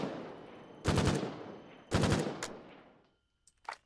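Rifle gunfire in the video game Foxhole: two loud bursts of rapid shots about a second apart, then a few fainter, shorter reports trailing off, with no talk.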